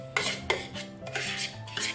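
A spatula mixing Christmas-tree cake batter in a bowl, with several sharp clinks and scrapes against the bowl in an uneven rhythm, close by and without speech.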